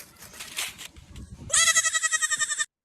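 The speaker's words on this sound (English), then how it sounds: "I went to a friend's farm and recorded a baby goat" A baby goat on a farm gives one long, loud, quavering bleat with a rapid tremolo, close up, after some faint background rustling and murmur.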